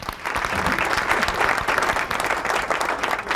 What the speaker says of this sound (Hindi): आपकी तालियां होंगी तो ये गाएंगी।